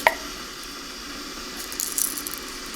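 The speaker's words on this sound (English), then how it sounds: "I'm going to go ahead and pour you a cup of this Japanese tea here" Japanese herbal green tea poured into a cup, a soft close trickle of liquid with a small clink at the start and a few brighter splashes near the end, quiet and intimate.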